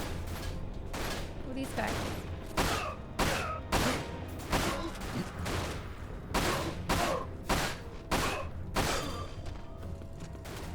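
Gunfire in the video game Final Fantasy VII Dirge of Cerberus: repeated loud bursts and volleys of shots in an irregular rhythm, with someone speaking briefly over the shooting.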